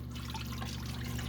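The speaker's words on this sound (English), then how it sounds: "I'm going to pour it on in. And this is our thickening agent." A cornstarch-style thickening agent poured into a sauce for kung pao chicken meatballs, giving a soft, close trickle of liquid over a low steady background hum.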